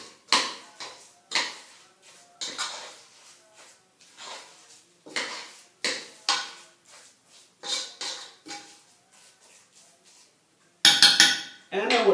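Carrot cake batter being mixed in a bowl, a utensil scraping and clinking against the sides in a steady run of short strokes, ending with a louder burst of clattering.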